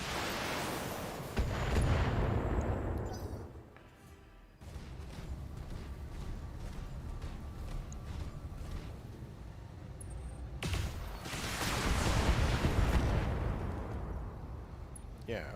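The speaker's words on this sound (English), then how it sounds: "Let's fire the LRM rack." Long-range missile rack salvos fired by a battlemech in the BattleTech (2018) game, two loud booming volleys with rushing roar between them, heavy and close, speech quietly underneath.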